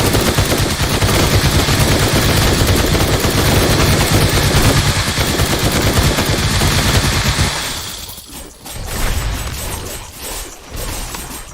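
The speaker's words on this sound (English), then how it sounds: "the miniguns, I trigger them when I want to trigger them" Sustained loud minigun fire in the zombie survival game Night of the Dead, a dense continuous automatic roar for about seven seconds that cuts off into scattered quieter bursts.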